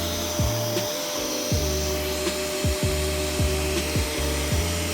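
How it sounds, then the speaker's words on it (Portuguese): A cheap Electrolux vacuum cleaner runs with a steady motor whine and hiss, while regular rhythmic rubbing strokes sweep across a surface several times under the hum. "Vou passar aqui o aspirador."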